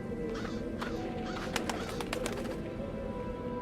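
A crow caws in the Dreamfall: The Longest Journey adventure game, giving a few short harsh calls over a steady ambient background.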